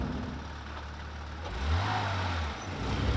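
A Porsche GT3 RS with a manual gearbox moving through city traffic, its engine a low steady drone that swells into a stronger rev midway before easing back, with no voices.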